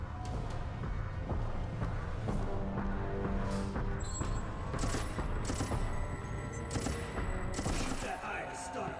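Gunfire in the video game Resident Evil: Operation Raccoon City, dense bursts of shots and impacts in a steady loud barrage with frantic action throughout.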